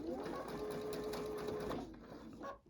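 A sewing machine stitching down a zipper on a Santa pillow, running in a steady fast whir, close up, then stopping near the end, with faint talk underneath.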